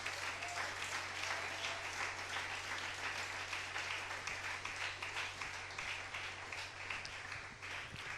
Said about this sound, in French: Est-ce qu'on peut acclamer le Seigneur Jésus?